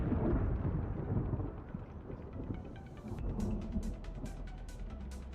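Thunder on the loading screen of the zombie survival game Project Zomboid starts as a deep, heavy rumble that fades. Sharp crackling strikes follow over a low stormy background, with no talking.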